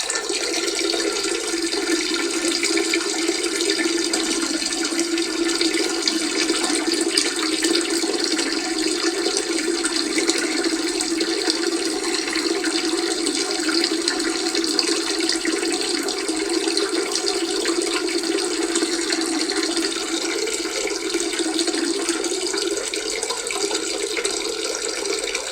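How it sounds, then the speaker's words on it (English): A continuous stream of running liquid, steady and fairly loud for the whole stretch, like a man peeing and pouring a drink, with no talk over it. "I'm going to pour another one of these and have another pee"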